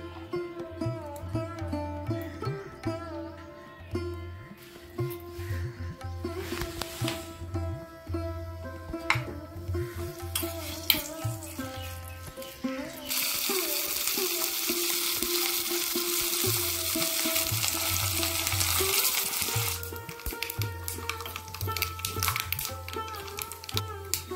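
Curry leaves, black mustard seeds and a dried red chilli sizzle in mustard oil, the frying growing into a loud, steady hiss in the second half, with background music throughout.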